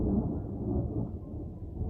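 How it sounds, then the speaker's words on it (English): Low, continuous rumble of thunder during a storm, steady and fairly loud for a couple of seconds with no voices. "It's still thundering."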